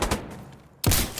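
A shotgun firing in a realistic video game, a sharp booming blast that comes in loud and close after a quiet moment and then rings out into a dense tail.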